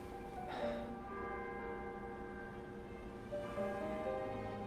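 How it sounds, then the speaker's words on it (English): A tolling bell sounds in the video game Love and Deepspace, its sustained tones ringing out faint and distant, with one strike early and another building near the end. "when you are under a bell like that, you'd be going deaf"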